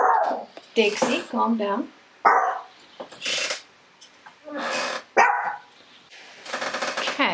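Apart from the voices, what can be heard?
chihuahuas barking at husband coming home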